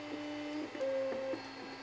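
Palette Plus filament splicer feeding spliced 3D-printer filament through a tube, a quiet electronic whir with a few faint stepping tones and brief clicks, steady and close.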